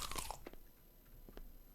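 A crisp apple bite crunch from the game Twisted Gallery, with a loud initial crack followed by a few short, quieter chewing crunches, close and without speech.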